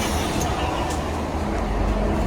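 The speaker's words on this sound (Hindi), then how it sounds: "सामने भाई साहब मेट्रो भी जा रही है" Metro train passing nearby, a steady broadband rumble with faint rhythmic rail clatter, moderately loud and continuous throughout.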